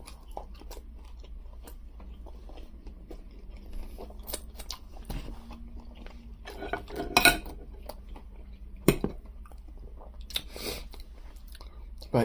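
Food eaten by hand during a mukbang gives close, intermittent chewing and crunching with a few sharp clicks of cutlery or dishes, over a quiet background with sparse talk.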